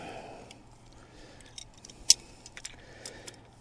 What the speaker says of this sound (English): So this is where your wire cutters come in.